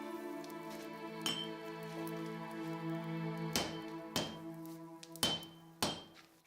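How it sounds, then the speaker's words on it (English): Heated steel for a samurai sword is struck with a hammer in a forge, several sharp ringing blows spaced irregularly over a sustained metallic hum, moderately loud and fairly close. "Heating softens the steel for hammering so that the pieces can be formed into one."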